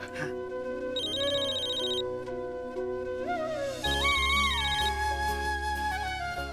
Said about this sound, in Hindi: ये मैं रागिनी को फोन करती हूँ